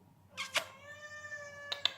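Pixel, a pet cat, gives a single drawn-out meow close by, bracketed by a few short sharp clicks or taps before and after.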